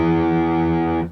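Short distorted electric guitar chord riff played on the low E string, a single loud sustained note ringing with heavy distortion before cutting off abruptly.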